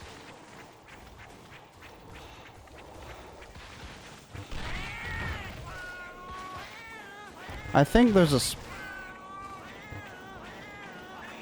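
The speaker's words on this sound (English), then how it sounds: "Guys, I hate cats in this game." Cats meow repeatedly in the Monster Hunter Freedom video game on the PSP, a series of rising and falling cries that peak in a loud, rapid burst near the end, over game sounds while a person talks.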